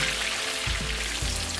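BBQ pork frying in a pot, a steady close sizzle with a couple of soft thumps as pieces shift against the bottom.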